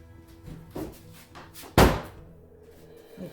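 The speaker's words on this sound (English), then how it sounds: "let me close the door" A door closes indoors with one sharp, loud slam after a few soft thumps and shuffles, then the room goes quiet.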